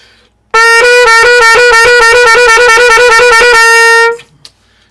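A single bright, loud piccolo trumpet C sharp held steadily for a few seconds, close and alone, then cut off into quiet.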